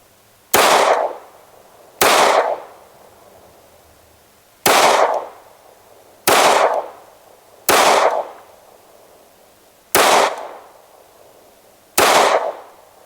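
Seven sharp, loud gunshots from a SCCY CPX-2 pistol at an outdoor range, fired singly at uneven intervals of about one to two seconds, each crack followed by a brief decaying echo, with no talking.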